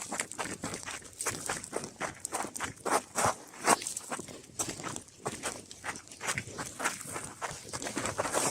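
Footsteps crunch steadily along a trail on Acatenango volcano in full darkness, a regular walking rhythm of close, moderately loud steps on loose volcanic ground with no talking.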